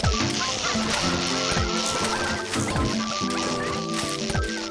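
Chicken zombies in Plants vs. Zombies 2 cluck and squawk amid a busy, continuous game soundtrack with music, honks and impact hits.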